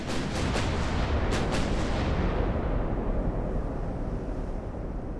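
Heavy 10-inch guns of a heavy cruiser fire in a naval battle game, a few deep booming blasts early on that roll into a long, loud, rumbling wash fading slowly with no talk.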